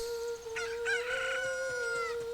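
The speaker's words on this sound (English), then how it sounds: "Look, a chicken hatched from the egg." A chicken in Zelda: Ocarina of Time, freshly hatched from an egg, gives a few short clucks and a crowing call over a steady high game tone, with no talk.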